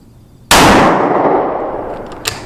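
A single loud rifle shot from a .280 AI rifle rested on an Athlon tripod cracks sharply outdoors and decays over a couple of seconds, followed by a faint distant echo or impact.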